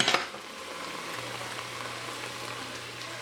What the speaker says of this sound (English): and just stirring it and having it get absorbed